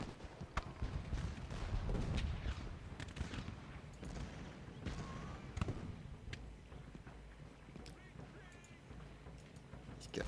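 Scattered artillery and musket fire from the Civil War strategy game Ultimate General: Gettysburg, with repeated sharp cracks and booms over a low rumbling battle bed, at moderate distance and fairly steady loudness.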